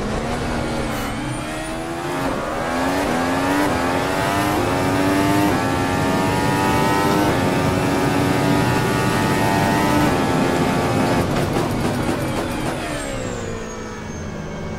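A Formula-style race car engine in a racing video game at the Spielberg circuit restarts and revs, its loud, sustained whine climbing and falling in pitch with a sharp surge of revs near the end.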